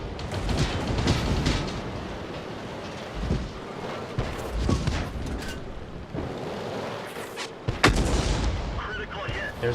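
Tank guns firing in the video game World of Tanks, heavy booming shots and rumbling blasts over continuous battle noise, several loud reports spread across the stretch, with a voice speaking faintly underneath.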